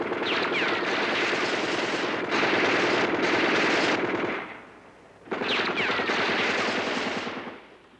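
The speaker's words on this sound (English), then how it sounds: "The Soviet AK-47 rifle, the standard weapon of the North Vietnamese soldier." Soviet AK-47 rifles fire in long automatic bursts, rapid loud crackling volleys that pause briefly near the middle before another sustained burst, with no talking.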